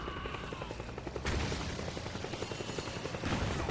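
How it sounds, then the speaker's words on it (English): Rapid gunfire crackles in Metal Gear Solid 4, a steady run of sharp shots in quick succession that swells louder partway through, dense and continuous over a rumbling backdrop. "Everybody's shooting again."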